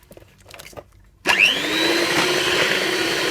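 An electric mixer whirs steadily as it beats pistachio cake batter with flour. It starts abruptly after a second of quiet kitchen sounds and holds a loud, constant motor drone with a high whine until it cuts off.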